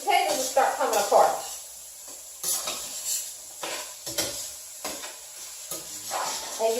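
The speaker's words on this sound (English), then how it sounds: "you want to be gentle with the way that you're folding the ingredients into the potatoes" Potatoes and onions frying in a pan, stirred and gently folded with a utensil: soft sizzling under repeated scraping and clinking strokes every second or so, fairly close, with a voice talking at times.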